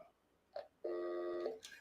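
An old telephone being checked to see that it works: a brief tone blip, then a steady electronic tone held for about half a second, followed by a short higher chirp, fairly faint with no talking.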